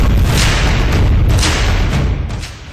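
Cross-border shelling and gunfire along the India-Pakistan border in Poonch, heard as a loud, continuous booming roar with dull blasts rolling into one another before easing off slightly at the end. No voices.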